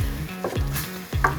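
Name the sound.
pumpkin sautéing and caramelizing in a pan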